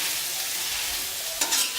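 Chopped potatoes fry in oil in a pan, a steady close sizzle with a brief scraping stir near the end.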